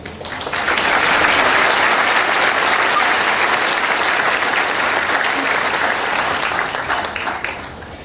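A graduation audience applauds for about eight seconds to welcome an adjunct faculty member to the stage at the 2017 FVCC ceremony, the clapping dense and steady, swelling quickly and then fading toward the end.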